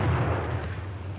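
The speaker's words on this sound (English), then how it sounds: "Being constructed to deliver a maximum blast effect, its explosion will stun rather than cause injury by fragmentation." A German stick grenade explosion, heard as a deep, heavy rumbling boom that fills the low end and slowly fades, loud and close.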